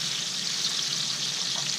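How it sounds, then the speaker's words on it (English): Trout sizzling in a frying pan, a steady close hiss of hot fat that holds evenly throughout without pause. "now you put this in the pan and you're going to leave it cooking here"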